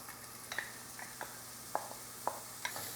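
Chopped onions sauté in hot oil for paella, a steady soft sizzle broken by scattered clicks and scrapes of stirring, fairly quiet and close, with no talking.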